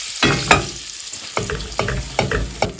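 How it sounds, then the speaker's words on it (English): Butter and flour stirred together in a pot give several distinct scraping strokes at an uneven rhythm over a light sizzle, close and fairly loud. "In a separate pot, I'm melting 2 tablespoons of butter. Next I'm adding 1/3 cup of flour"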